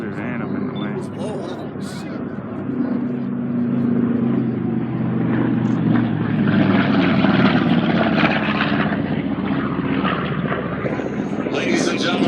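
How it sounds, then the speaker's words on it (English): A P-40 warplane's propeller engine roars past at an air show, loud and sustained, rising and swelling as it nears, with an announcer talking over it. "Here comes that P-40."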